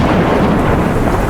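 A loud, continuous thunderstorm rumble with heavy rolling thunder and rain-like roar, dense and close throughout, used as a dramatic effect in a dark Warhammer 40k narration.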